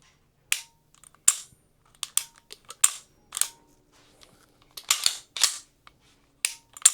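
Single-action trigger dry-fire clicks from a Sig Sauer SP2022 pistol, special edition, a dozen or so sharp, close, dry snaps in irregular groups with short silences between, no talking.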